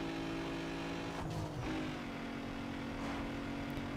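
Racing car engines drone steadily in Need for Speed: Underground 2 while running behind a leading Audi A3, a constant buzzing hum with brief whooshes of passing traffic.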